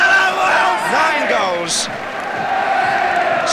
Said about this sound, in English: And as the crowd celebrates